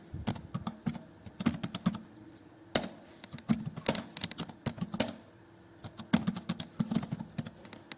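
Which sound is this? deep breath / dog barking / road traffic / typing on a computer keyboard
typing on a computer keyboard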